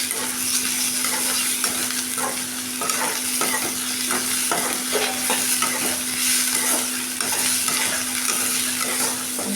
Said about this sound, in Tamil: இப்போ தக்காளி நல்லா வணங்கிடுச்சு